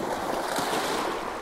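Ocean waves breaking along the shoreline, a close, steady, hissing wash of surf with a little wind.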